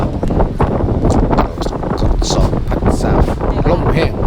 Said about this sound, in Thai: ลมพัด วีเลยนะเนี่ย